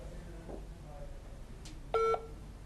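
Two-tone electronic beeps on a phone line during a call-in show, a brief sustained tone pair standing out over faint background hiss, with no talk.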